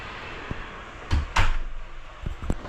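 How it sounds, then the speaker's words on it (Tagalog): A house door closes with a couple of thumping knocks and a latch click, followed by softer bumps and rattles, close by and with no talk. "i-close na natin yung pinto"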